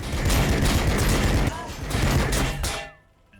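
Units exchanging weapon fire in a Warhammer 40,000 battle between Blood Angels and T'au, a dense, loud barrage of rapid gunfire and blasts lasting about three seconds before cutting off, with a voice over it.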